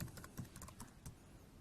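Rapid, quiet keystrokes on a computer keyboard as a show command is entered, a short burst of clicks that trails off.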